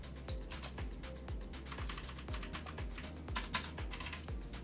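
Rapid keystrokes on a computer keyboard, a quick irregular run of close, crisp clicks and taps with no talking.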